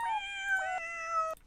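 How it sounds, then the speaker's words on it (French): Cat meows played as notes on a cat piano website, two or three clear, tonal mews in quick succession, close and loud with no talking. "vous pouvez jouer de la musique avec des chats"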